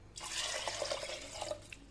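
Water poured into a pot over fried ingredients with fava beans, chickpeas and a few lentils, a steady trickling splash lasting about two seconds with light dripping near the end.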